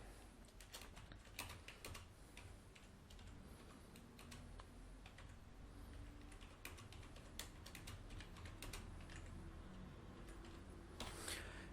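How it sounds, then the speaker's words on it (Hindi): Someone types text into InPage on a computer keyboard: quiet, close, irregular key clicks coming in quick bursts and short pauses, with no talking. "यही टेक्स्ट मैं यहाँ से थोड़ा सा आपको टाइप भी करके दिखा देता हूँ"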